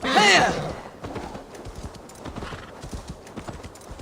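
A horse in the video game Assassin's Creed Valhalla clip-clops with steady hoofbeats after a short whinny at the start, the hooves sounding moderately close and even.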